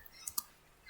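A few light keyboard clicks while a git commit command is typed, faint and close, two quick taps close together, then a soft one near the end, with no talk.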